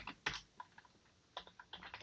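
Soft, close keystrokes on a computer keyboard while code is typed, quick irregular clicks in two short bursts with a pause between.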